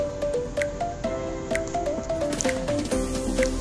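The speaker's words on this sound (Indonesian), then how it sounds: "Selanjutnya, kocok wadah sampai tercampur" A container of bleach disinfectant solution is shaken by hand, giving close, rapid sloshing and squishing bursts with a few knocks of the container, repeated through the whole stretch with no talk.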